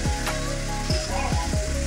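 Chopped bottle gourd tipped into a pan of frying chopped onions in a Bengali home kitchen, giving a steady close sizzle with a few sharp crackles and spits through the brief moment.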